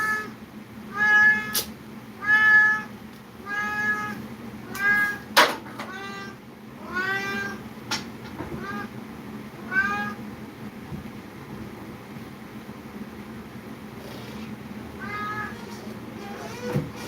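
A tomcat yowls and caterwauls after a female cat in a series of loud, drawn-out, wavering cries at uneven intervals, with quieter background noise between them.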